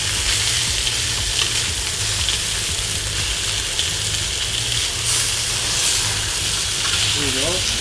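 Meat searing in hot oil in a pan, a steady close sizzle and crackle running throughout without pause, with a low hum underneath.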